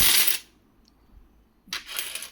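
A handful of uncirculated 2020 Hyderabad mint 20 rupee coins falls with a bright metallic clatter, then goes quiet for over a second before a second burst of jingling coins lands, close up with no voices.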